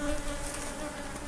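Honeybees buzzing around an open hive during a September inspection: a steady, close, continuous drone with no pauses and no voices.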